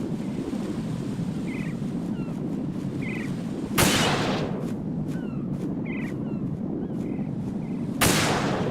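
Gunshots in Metal Gear Solid 2 HD Edition on PS3: two sharp, loud cracks several seconds apart over a windy, ocean-like ambient bed with faint chirping game sounds, no talking.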